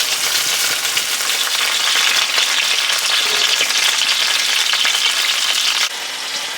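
Sausages for bangers and mash brown in a frying pan, producing a loud, dense, continuous sizzle and crackle close by that drops a little in level near the end.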